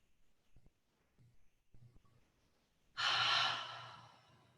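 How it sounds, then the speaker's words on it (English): A single deep breath during a slow pranayama session in a yoga class, preceded by faint soft shuffling; the loud, airy breath arrives near the end and gradually trails off, close to the mic with no talking. "Nice spacious breaths, coming back to that breath. Pranayama breathing."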